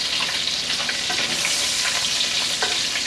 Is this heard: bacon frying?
yes